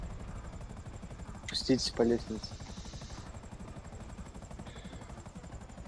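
Helicopter rotor drone from GTA V Online, a steady low chop running throughout under brief nearby talk.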